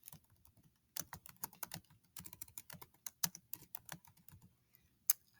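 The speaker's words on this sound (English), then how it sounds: "So I'm going to type exactly what I have there." Someone types on a computer keyboard in irregular, close bursts of sharp clicking keystrokes, with short pauses between runs and a louder single tap near the end.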